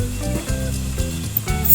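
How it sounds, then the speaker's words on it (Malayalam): Milk for adapradhaman payasam boiling and being stirred in a pot, a steady close bubbling sizzle with soft scraping stir strokes throughout, alone without voices. "ഇനി പാലൊക്കെ ഒന്ന് തിളച്ച് കുറുകി വരുന്നത് വരെ ഒന്ന് നന്നായി ഇളക്കി കൊടുക്കണം."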